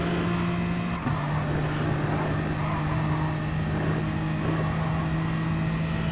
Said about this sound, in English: See the car stream up past the Schumacher S's